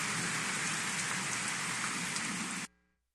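Heavy rain shower pouring down during a late-afternoon storm in Betânia, in rural Angelina, a dense steady roar of rain on surfaces that stops abruptly near the end.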